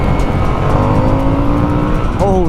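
A Harley-Davidson Sportster S motorcycle pulls hard in second gear on a demo ride at the Sturgis rally, its engine note climbing steadily and loud and close, with a rising whine near the end.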